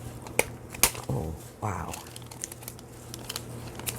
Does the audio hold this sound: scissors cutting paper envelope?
yes